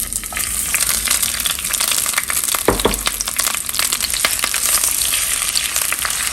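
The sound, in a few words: onions frying in a pot with oil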